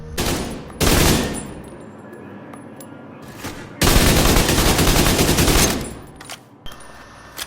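Gunfire on a firing range in the game Division 2, with two loud sustained automatic bursts, the second one long, broken by single sharp shots and short pauses. Each burst rings close and harsh, and no voices are heard.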